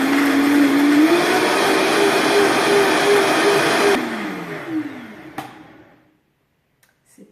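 A countertop blender purées soaked cashews with water into cashew milk, a loud steady motor whine with shifting pitch that winds down and stops, leaving brief clinks and silence.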